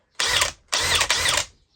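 A power drill bores in a joinery job, with three loud, close bursts of harsh whirring separated by short pauses.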